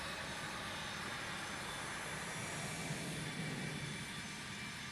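A small CRJ regional jet in Microsoft Flight Simulator 2024 drones with a steady, broadband engine roar and hiss, unbroken and moderately quiet throughout.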